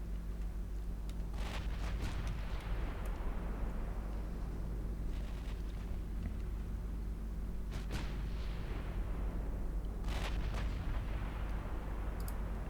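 Sixteen-inch naval guns boom in a naval battle game: a few deep, distant blasts spaced several seconds apart, rolling out over a steady low rumble of engines and sea.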